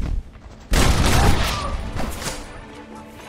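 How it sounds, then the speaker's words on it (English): Gunfire in the Red Dead Redemption video game, with a Gatling gun opening up: a sudden loud, dense burst of rapid shots that keeps rattling on under the game's din for several seconds. "Use that Gatling gun"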